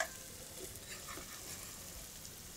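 Onions browning in a pan for palak paneer, a faint, steady sizzle close by with no voices.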